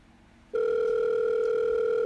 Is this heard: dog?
no